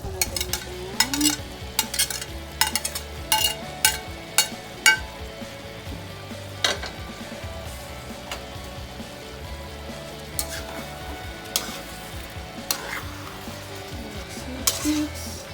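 Vegetables fry in a pan for pininyahang manok, a chicken and pineapple dish, with a steady sizzle broken by repeated scraping and clacking stirring strokes close up.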